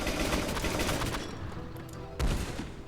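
Cannons fire in Rimworld, a rapid clattering barrage of shots that rolls on continuously before a heavier boom lands near the end.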